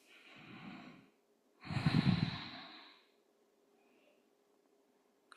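Slow, deep breathing during a yoga session, with two audible breaths, a softer one followed by a louder, fuller one, heard close against a quiet room.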